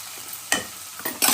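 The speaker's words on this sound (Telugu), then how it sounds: "తగినంత సాల్టు, పసుపు, కారము, గరం మసాలా వేసి బాగా కలుపుకోవాలి" Spices such as salt, turmeric, chilli powder and garam masala being stirred into an onion mixture in a pan for gongura ulli karam, with a few distinct scraping strokes over a soft sizzle, growing busier toward the end.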